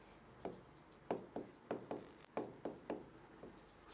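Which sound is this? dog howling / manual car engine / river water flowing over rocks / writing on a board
writing on a board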